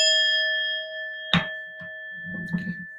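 A small bell rings with a clear sustained tone that slowly fades, followed by a sharp knock and a brief low murmur of voices.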